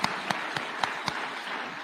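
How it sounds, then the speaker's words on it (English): Applause at a State House presidential awards ceremony: a thin, fairly distant patter of clapping from an audience, steady with a few sharper claps standing out. "One more round of applause for His Excellency."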